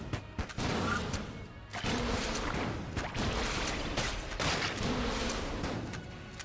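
Rapid bursts of gunfire from the Enter the Gungeon video game, dense overlapping shots rattling almost continuously for several seconds, with brief gaps between volleys and no talking.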